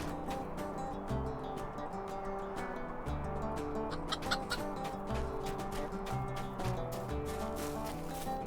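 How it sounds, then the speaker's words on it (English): Dora's chicken on a farm in the online game Lord of the Rings Online, clucking in short, repeated bursts over a busy, rhythmic game soundscape. "There's Dora's chicken."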